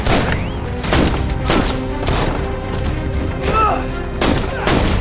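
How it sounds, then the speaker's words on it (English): Repeated gunshots and booms ring out in a film crossfire scene, heavy irregular bursts spread across several seconds under a dense, noisy background. "Jack opens fire on Sanborn and his guards, ignoring the fallout."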